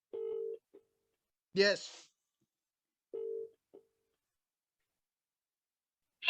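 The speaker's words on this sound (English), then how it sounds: "Okay, so we're going to dial that number, Bill." Telephone tones sound as someone dials a number on stage at an open mic magic show: two steady, moderately quiet tone bursts with long silent gaps, and a brief spoken word falls between them.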